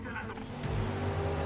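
Touring car engine drone and tyre noise during a race at Sydney Motorsport Park in the game GRID Legends, a sustained close roar with a brief rising whine, mixed under a voice.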